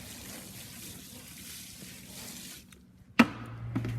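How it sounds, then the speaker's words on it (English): Water trickles and splashes faintly onto dry soil block mix, a soft wet dribble that fades to near quiet, then ends with a sharp knock and a hollow thud from handling the soil block maker. "You can see that I put water in there, but as soon as I pull that away, it's dry."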